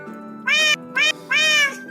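A house cat meows three times in quick succession, drawn-out harmonic cries with a short chirp between them, heard close over a low steady background hum.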